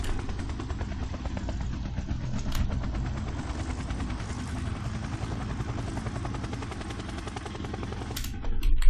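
Game helicopter lifting off in an Unreal Engine flight system, a steady rapid rotor chop with a loud engine whine throughout, constant and close, swelling slightly at the end.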